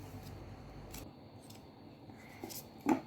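Scissors snip through a folded paper card for a handmade greeting card, a few light close cuts and rustles ending in one sharper snip, with no talking.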